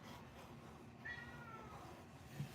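A pet cat gives a single soft, drawn-out meow, faint and somewhat distant over a quiet room hum.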